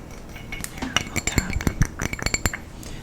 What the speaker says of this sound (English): This is just a pint glass from BJ's Brew House.